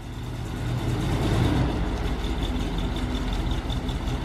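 A Winnebago motorhome engine running steadily as it drives off, a continuous low rumble with a faint steady hum, moderately loud and with no voices.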